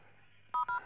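A telephone keypad sounds a quick run of dialing tones, two or three short beeps in close succession from the 2010 film Buried, heard over quiet background.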